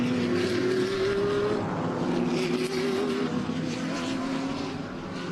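GT race cars including a Lamborghini and an Audi R8 racing at the Lausitzring, engine notes rising and falling as they pass at moderate distance, a steady mechanical roar with shifting pitch.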